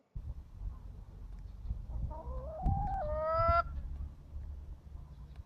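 Leia the pet chicken makes a single drawn-out, rising squawk in the middle of quiet, low background noise, with a few faint murmurs before and after.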